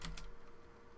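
Two quick keystroke clicks on a computer keyboard while a command is typed during map making, followed by a low steady hum with no further typing.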